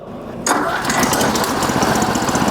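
A vine shredder farm machine's engine bursts into life after a short quiet start, then settles into a loud, steady running rumble close by with no talk over it.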